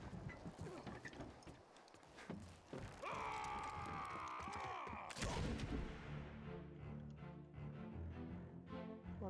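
Gunshots and mechanical clatter in the video game Return of the Obra Dinn, with sharp reports followed by a sustained tonal ringing and then rhythmic mechanical rattling, quiet overall.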